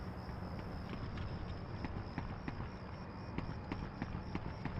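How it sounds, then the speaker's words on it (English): Heavy footsteps thud in a steady, rapid rhythm in the video game Medal of Honor Underground, loud and close over a constant background hum. "very loud footsteps."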